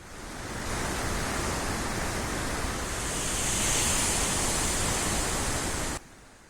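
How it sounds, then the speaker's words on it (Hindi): Strong rushing water pouring through a full dam, a dense, loud, continuous roar that holds steady and then cuts off abruptly near the end, with no talking. "पानी की धार काफी तेज है।"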